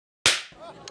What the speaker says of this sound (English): When you think of a slap sound, it's supposed to sound like this.